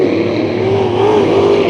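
Sport Mod race cars in a heat race at Bakersfield Speedway, engines roaring loud and close with a wavering, rising and falling whine as the pack runs around the track.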